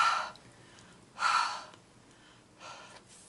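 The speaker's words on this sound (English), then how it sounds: "give it a nice little huff or like nice little breath" Three breathy huffs close to the mouth, warming a rubber stamp, each a soft airy burst with short pauses between.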